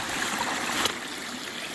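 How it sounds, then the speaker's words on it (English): Small stream running through a drainage on the Ozark Highlands Trail, a steady close wash of trickling water with no pauses, moderately loud and alone. "Pop into this one and it's running water"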